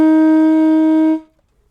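A saxophone sounds a single sustained note C, a clear steady reedy tone held for just over a second before stopping cleanly, close and loud with nothing else underneath.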